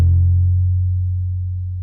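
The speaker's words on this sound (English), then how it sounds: "when we bend the 5th fret, we want it to sound like this." A single bass guitar note bent at the 5th fret for a riff rings out alone, a strong low tone that slowly decays over about two seconds.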